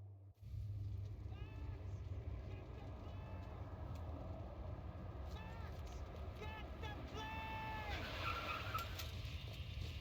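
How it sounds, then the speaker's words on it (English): A car in Max Payne 3 drives hard, its engine droning while tires squeal and skid in repeated bursts, with shouting voices and game action mixed in. "I mean, just drive the fucking car!"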